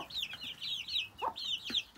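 Growing chicks peeping and chirping near at hand as they feed on grain, a string of short rising and falling calls with a couple of lower clucks mixed in, no voices.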